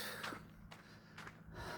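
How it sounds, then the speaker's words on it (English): A couple of short, faint breaths and huffs from a person out walking on a crisp morning, close to the ear with quiet outdoor air behind them. "When am I going to start huffing and puffing?"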